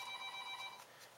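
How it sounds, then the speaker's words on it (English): A telephone rings with a steady electronic tone, faint and heard on its own for under a second before it stops. "The phone's ringing."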